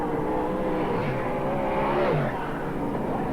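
Race cars roaring around the track at Archerfield Speedway during the 1990 Winfield ASC round eight, a dense steady engine drone with cars passing close by.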